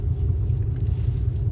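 A car driving past on a road beside a lake, a loud close rumbling engine and tyre roar that holds steady with no voices.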